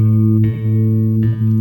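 Bass guitar note on the G string at the second fret, plucked twice in a row, each low tone sustaining cleanly on its own with a slight attack at each pluck.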